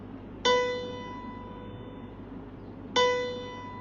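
A single musical note B is struck twice, each a clear bell-like tone with a sharp attack that slowly decays, the two strikes about two and a half seconds apart, quiet and alone.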